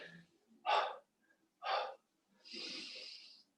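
Three audible breaths during a stretch-and-strength workout: two short, sharp inhales or exhales close together, then a longer, softer airy breath, each close and alone with no talking.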